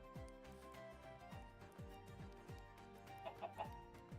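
Snow-variant chickens modeled on Polish chickens cluck repeatedly in Minecraft, with short clucks and squawks layered over steady game background sound and a brief louder burst near the end.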